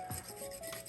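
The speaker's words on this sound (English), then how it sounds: "And then I scrape the outer edge right where the neck of it meets." Coffee grounds are scraped off the edge of an espresso basket near its neck. It makes a brief, soft rasping rub, quiet and close, lasting under a second.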